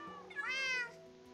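A cat meows once, a clear rising and falling call lasting under a second, close and fairly loud against a quiet indoor background.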